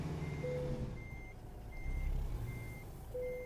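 A truck backing a trailer into a loading dock sounds its reversing alarm, five evenly spaced high beeps over a low idling engine rumble, near and steady with no talk.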